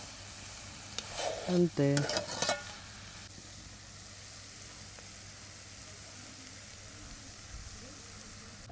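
Food being stirred in a frying pan with sizzling underneath, a burst of scraping and clatter for about two seconds before settling into a quieter steady sizzle; a short spoken word is heard.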